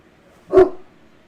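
A big dog gives a single deep, loud bark, short and close, in an otherwise quiet indoor space.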